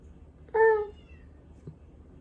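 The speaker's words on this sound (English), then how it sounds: "my brother's cat Bingus is whining at the door" A single short, plaintive meow from Bingus the cat whining at a door, clear and fairly close against a quiet room, followed by a faint soft thump.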